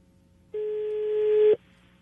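A single steady telephone line tone on a dialed call that goes unanswered, lasting about a second, clear and alone over a faint background hum.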